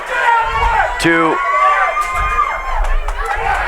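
Crowd reacting during a brawl breaking out among spectators at a wrestling show, with shouts, cheers and whoops rising and falling and a brief loud call cutting through near the middle.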